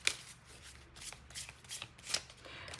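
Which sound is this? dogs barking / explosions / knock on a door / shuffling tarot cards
shuffling tarot cards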